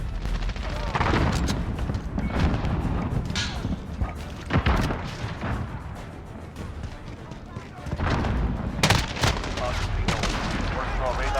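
Gunfire from a Call of Duty: Vanguard match, with dense bursts and thudding shots running through most of the stretch, loudest near the start and again toward the end, under in-game radio voices calling out.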